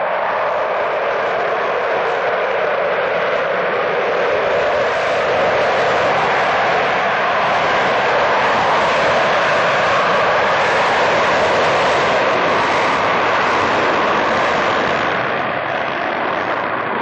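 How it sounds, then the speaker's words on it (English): A Concorde, the British-French turbojet-powered supersonic passenger airliner, flying: a steady, loud, broadband jet roar that holds constant and fills the whole span without a break. "The Concorde was a British-French turbojet-powered supersonic passenger airliner"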